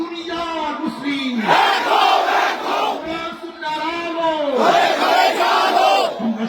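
A large crowd at an outdoor Islamic religious gathering at Government Azizul Haque College, Bogura, loudly chants the Allahu Akbar slogan in call-and-response waves, with voices rising and falling together in repeated surges.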